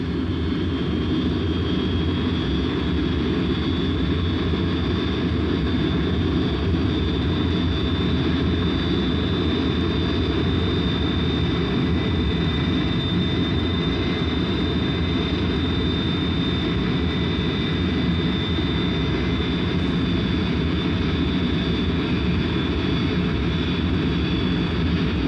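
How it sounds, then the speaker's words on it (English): Military bomber aircraft taxiing out for a low-level mission with Rhodesian forces, a steady droning engine roar with a high whine running unbroken and fairly loud, without voices. "Bombers taxied out that first morning for what was to be a low-level"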